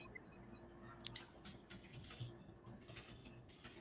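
Faint typing on a computer keyboard, with quiet, irregular key clicks in short bursts against low background hum, no voices.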